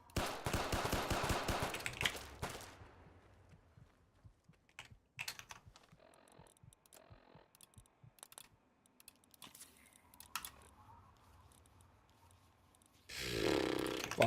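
Rapid sharp pistol shots in the video game Capital Punishment, a .32 pistol, come as a dense loud burst at the start, then scattered clicks and taps, then another loud burst at the very end.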